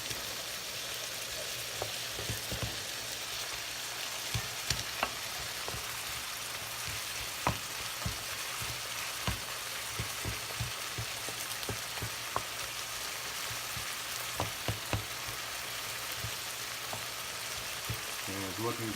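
Shrimp and clams simmer in a white wine and Pernod sauce in a pan, giving a steady close sizzle and bubbling with scattered sharp pops and clinks throughout.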